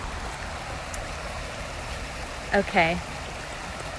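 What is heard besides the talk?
LA River water flowing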